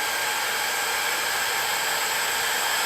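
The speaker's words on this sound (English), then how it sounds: "then we're going to blow dry it down a little bit tacky" Hair dryer blowing on kinky hair, a loud, steady airy roar that holds constant throughout without a break, close and alone.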